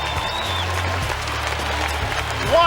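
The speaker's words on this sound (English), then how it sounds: "the crowd is shouting" A large crowd at a 2005 IFSA European Championships strongman deadlift event roars and applauds continuously, a loud sustained wash of cheering.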